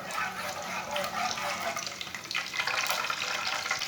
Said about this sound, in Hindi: आधा चम्मच साबुत धनिया, आधा चम्मच साबुत ज़ीरा। थोड़ा सा रोस्ट होने देंगे।